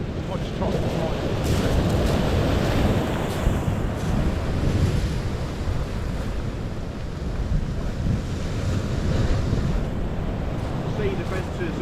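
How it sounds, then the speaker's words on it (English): Sea waves surge and wash against sea defences on the shore, a constant loud roar of churning swash with wind buffeting throughout. "a lot of swash and waves, sort of confusion"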